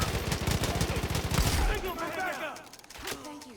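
A loud burst of rapid gunfire rattles out in Far Cry 5, dense rhythmic shots for over a second, then fading into scattered echoes and game effects with a quieter later pop.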